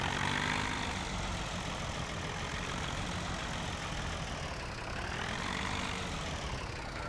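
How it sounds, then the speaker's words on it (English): A tractor in Farming Simulator 17 runs at a steady idle, a continuous, even engine drone with a broad rumble that holds level throughout and a slight swell near the end, heard alone with no talk. "Turn on the engine."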